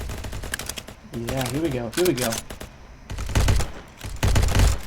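Gunshots from a gun in Ancient Warfare 3 ring out as rapid sharp bursts in several clusters, mixed with someone talking briefly over the firing.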